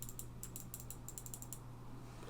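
Quick run of soft, crisp right-button clicks on an Xtrfy MZ1 gaming mouse, close and quiet, bunched into short bursts over a faint constant hum, then fading into stillness.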